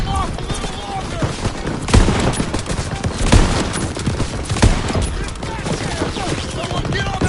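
Rapid machine gun fire and scattered gunshots fill a Call of Duty battle, loud and dense, with shouted voices mixed into the din.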